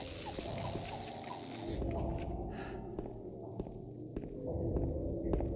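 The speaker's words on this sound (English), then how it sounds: "Oh, it's a fucking cicada or something." Steady high insect-like buzz, like a cicada, drones through a dark stretch of the Silent Hill 2 video game, then fades out, leaving low ambient rumble and faint footsteps.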